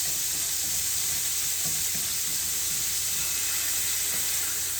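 Philly steak meat fries in oil on a hot griddle, giving a loud, continuous hiss and sizzle with faint bubbling crackle, close up and steady, with no talking.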